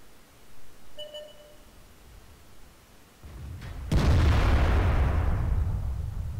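A short electronic beep, then a low rumble that swells into a loud, booming tank gun blast with a long, fading roar, in the game World of Tanks.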